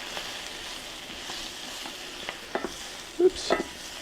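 Spinach seasoned with pepper and nutmeg cooking in a pan, a soft steady sizzle with a few light stirring scrapes toward the end.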